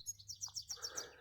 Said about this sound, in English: There's a very friendly pigeon there